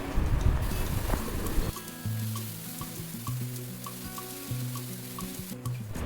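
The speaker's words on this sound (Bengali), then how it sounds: "নুন হলুদ ঝালের গুঁড়ো দিয়ে ভালো করে ভাজা ভাজা করে নিচ্ছি" Onion, tomato, ginger-garlic paste, salt, turmeric and chili powder frying in oil, a soft close sizzle with intermittent scraping and clinks of a utensil stirring the pan.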